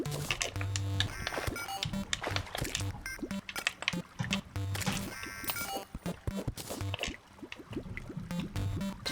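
Water draining out of a flooded house in the video game Terraria, a busy run of gurgling, dripping liquid effects layered with other game sounds and music, steady and fairly loud throughout.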